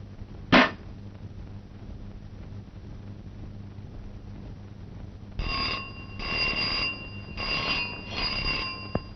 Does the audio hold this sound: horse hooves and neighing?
no